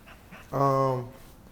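Saint, a six-month-old dog, gives one short, clear panting whine, close and brief, among faint surrounding talk.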